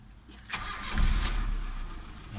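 A Mitsubishi Adventure gasoline engine, just repaired after a broken sending-unit wire, cranks briefly and then catches, settling into a loud, low, steady idle rumble close by.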